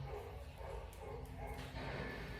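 A dog barks and yips a few times, faint and somewhat distant, over a low background rumble.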